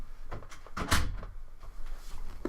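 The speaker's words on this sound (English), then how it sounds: "Sorry, my door flew open." A door flying open with a sudden bang and rattle near the middle, framed by a few lighter knocks and bumps in a quiet room.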